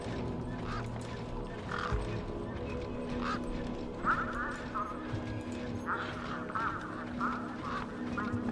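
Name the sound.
desert birds in a video game, Beyond a Steel Sky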